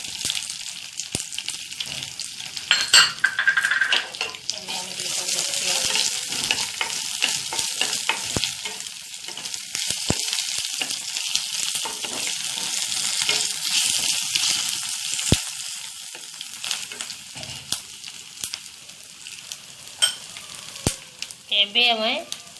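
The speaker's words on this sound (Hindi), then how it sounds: "एबे हमें आंबुल जो भिजे रखी आंबुल को ताको एबे पकेबा।" Soaked dried mango pieces (ambula) fry in a pan with a loud, continuous sizzle, broken by stirring scrapes and a few sharp clinks.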